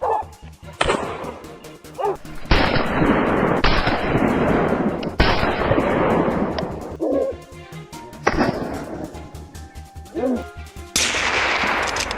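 Repeated loud gunshots during a wild boar hunt with dogs, several sharp blasts with echoing tails spaced across the scene, dogs barking in between and voices talking.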